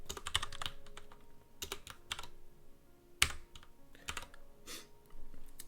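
Typing on a computer keyboard with an End key during a game-development session, close, crisp key clicks in uneven bursts and pauses, with one sharper, louder keystroke near the middle.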